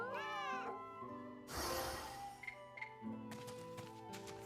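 A cat in Fate/Samurai Remnant meows once, rising and falling, then gives way to a burst of noise and tapping over steady game music.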